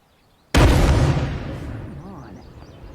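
A grenade launcher in State of Decay 2 fires and its round detonates in one sudden loud boom, the blast rumbling and slowly fading away over the following seconds.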